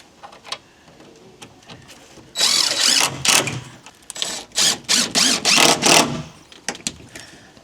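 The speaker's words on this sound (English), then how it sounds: "this is where your battery powered drills come in very handy" Battery-powered drill driving screws into wooden boards, close and loud: one long sustained run of the motor, then a string of six or seven short bursts in a stop-start rhythm, with quieter handling sounds before and after.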